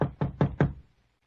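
Four firm knocks on a wooden farmhouse door, evenly spaced about a fifth of a second apart, close and loud, with a short decay and no voices, staged as a radio drama effect.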